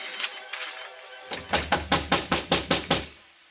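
A fist knocks on a locked door in an old-time radio drama, two faint raps and then a loud, close, steady run of about eight heavy knocks, with no voices.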